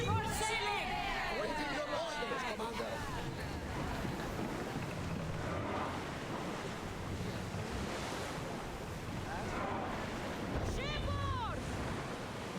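A ship sails across the sea in Assassin's Creed Odyssey, steady rushing waves and wind noise filling the scene continuously, with chirping tones and game sounds faintly layered on top.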